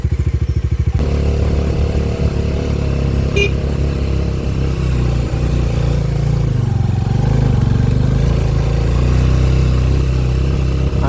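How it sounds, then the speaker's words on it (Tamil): A motorcycle rides an off-road track with the suspension bouncing hard, its engine droning steadily and loudly up close with rattling clatter throughout. "ஆனால் வண்டி ரொம்ப குதிக்குது."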